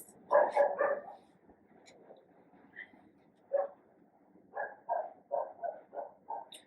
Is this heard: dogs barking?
yes